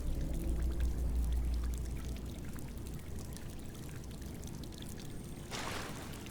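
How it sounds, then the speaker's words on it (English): Water floods into a room in Fallout 4 with a steady, loud pouring rush that fills the space, joined by a brighter splashing burst near the end. "look, it's flooding in here"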